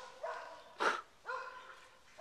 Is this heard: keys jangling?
no